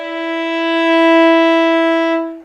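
A single slurred violin note bowed on the D string without a finger tap, a steady sustained tone about two seconds long, clear and close, swelling slightly and fading at the end.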